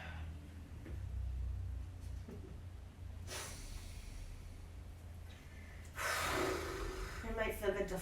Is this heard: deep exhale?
yes